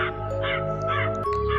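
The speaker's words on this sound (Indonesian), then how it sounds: "dengan jelas dirinya dan Komala mendengar suara burung kematian diserta benturan dari tempat itu" Death bird in a horror story giving harsh crow-like caws, four rhythmic calls over a low droning background, loud and close with no talk.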